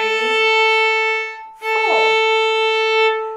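A violin plays sustained notes on the A string, bowed smoothly with a brief break in the middle and a scratchy bow change, clear and close.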